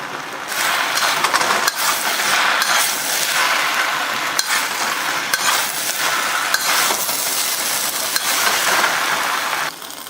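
Beef and rice stick noodles being stir-fried in a hot pan, a loud steady sizzle with repeated scraping and clanking of the utensil against the pan, close and continuous with no talking.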